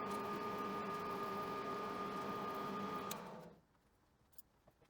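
Threading tool making a scratch pass at 16 TPI on a woodturning lathe, a steady mechanical hum and whir that runs for about three seconds, then stops abruptly and leaves near silence with a couple of faint clicks.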